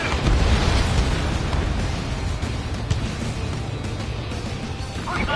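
Enemy aircraft destroyed in the Ace Combat 7 flight game: a loud, sustained rumbling explosion with crashing, bursting debris over a continuous roar of jet engines. Near and dense throughout, with faint radio voices in the background.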